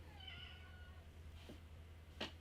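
A pet cat meows indoors, a drawn-out, faint mew near the start followed by a brief, sharper cry, with low background hum.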